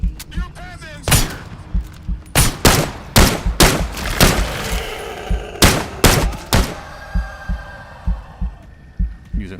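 Rifle gunshots in the VR shooter Into the Radius 2, about a dozen loud sharp cracks fired in irregular bursts, some in quick doubles, with a voice briefly heard among them.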